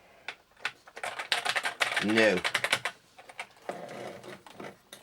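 Clicky keystrokes on a ZX81 computer keyboard, tapped in irregular bursts at close range, with a short tonal beep partway through and a person speaking over parts of it.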